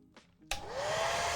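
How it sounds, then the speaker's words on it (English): Hair dryer blowing air to dry wet paint on a painted model, kicking on abruptly after a few soft taps and roaring steadily and close with a rising whine. "We'll hit it with air dryer."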